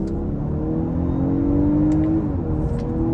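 A 2023 Audi A5 Sportback S-Line 45 accelerating from inside the cabin, a steady engine drone rising in pitch, easing briefly and climbing again, with muted road noise.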